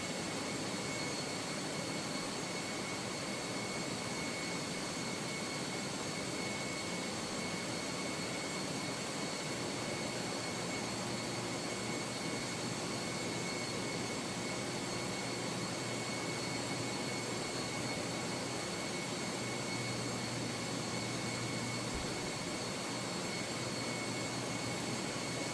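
Jet airliner engines in Microsoft Flight Simulator 2024, a Fenix A321, producing a loud, continuous broadband roar with a steady whine layered on top, unbroken for the whole stretch.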